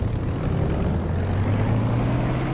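Propeller aircraft engine in the DCS flight simulator throttling up for takeoff, a steady loud drone with a deep hum that rises slightly and holds throughout, with no talking.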